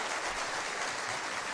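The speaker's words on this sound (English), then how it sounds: "We're clapping for showing up." Steady hand clapping from a group, a dense continuous patter that fills the whole moment at even loudness, with no voices.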